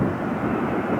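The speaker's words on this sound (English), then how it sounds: "Oh, there's a fighter jet." A fighter jet roars overhead near Cleveland Hopkins airport before a Browns game, a steady, loud, broadband rumbling drone filling the air without a break or any voices.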